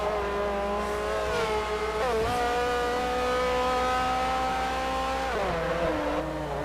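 A Bentley race car in the Forza video game sweeps through the carousel corner at Sonoma, its engine holding a loud, steady high whine with brief pitch dips at gear shifts and a touch of tire squeal.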